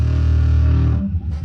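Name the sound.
distortion effect on an instrument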